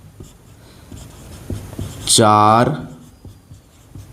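Marker or chalk scratching and tapping on a board in a Hindi grammar lesson, short faint strokes spaced out across the moment, with a voice speaking briefly in the middle.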